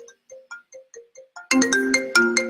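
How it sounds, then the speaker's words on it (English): A phone's incoming-call ringtone plays soft, evenly spaced short beeps, then bursts into a louder, bright melodic chime that keeps ringing. "Sorry, I got a phone call."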